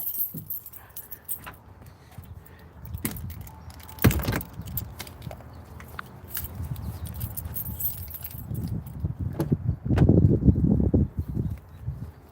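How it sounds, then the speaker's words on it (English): Car keys jangle in short metallic bursts close by while someone fetches them for a vehicle getting a battery change, with scattered handling clatter and a louder rustling burst near the end. "Just need to get the keys."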